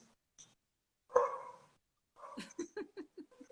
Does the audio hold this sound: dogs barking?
yes